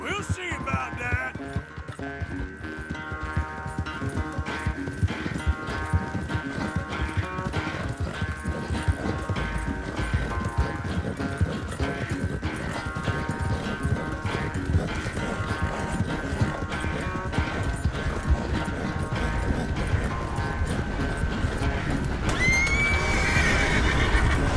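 Horse hooves clatter at a steady gallop with repeated neighs and whinnies in Red Dead Redemption 2, continuous and fairly loud over a busy game soundscape, brightening near the end.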